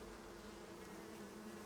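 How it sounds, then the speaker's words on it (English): Bees buzz in the Icarus survival game, a steady low droning hum that stays even and continuous, moderately close, with no talking over it. "We got the bees."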